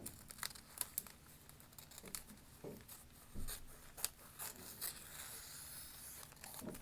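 Paper being cut with scissors while making a junk journal page, giving a close, quiet run of crisp crinkling snips and rustles with a few louder cuts, and no talking.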